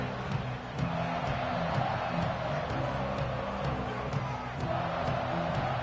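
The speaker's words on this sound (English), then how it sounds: "This crowd ready to make its presence known." Football stadium crowd at a UCLA Bruins game against Washington, a steady loud roar filling the whole stretch with no one speaking over it.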